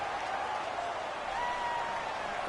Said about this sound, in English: The crowd getting into it as we come up on a big 3rd down